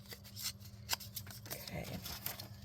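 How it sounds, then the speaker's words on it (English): Paper from a book page being torn by hand during a crafting project making envelopes, a few quiet ripping and rustling bursts over a low steady hum, fairly close. "we're going to tear it right about there like that"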